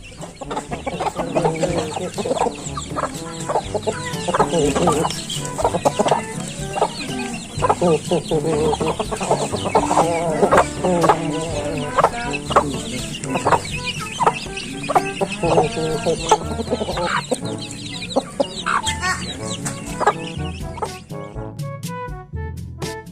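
Chickens cluck in steady, busy bursts throughout, loud and close, layered over continuous background noise, with faint talk mixed in.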